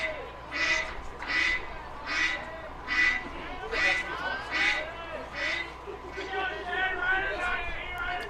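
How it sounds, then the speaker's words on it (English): Ducks at a high school baseball field give a run of about eight distinct, evenly spaced quacks, fairly close, over a low background of crowd murmur. "First time I've been to the ballpark when there's been ducks here."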